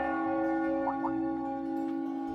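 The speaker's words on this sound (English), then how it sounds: "That must be Heimdall Cathedral's bell. It has a solemn, stately sound, wouldn't you say?" Heimdall Cathedral's bell in the video game Trails of Cold Steel, heard as a sustained, resonant, solemn tone that hangs steadily through the whole stretch, with a couple of faint soft plinks partway.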